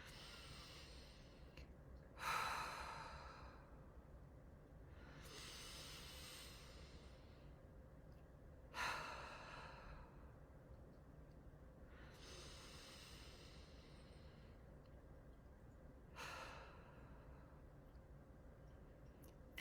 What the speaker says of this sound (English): I'm going to get you to take 3 deep breaths